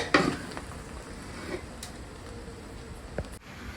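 Veg pulao rice flipped and stirred in a pan, with a scrape and clatter of the utensil at the start and a soft sizzle continuing underneath, plus a few faint taps.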